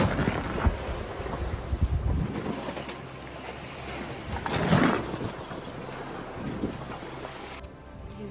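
A sailboat rolls in open Atlantic ocean swell, with heavy wind buffeting the microphone, water washing along the hull and creaks as the boat is pushed side to side, loudest in a surge near the middle.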